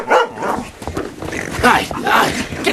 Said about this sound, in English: That's the same dog that lost my ruby.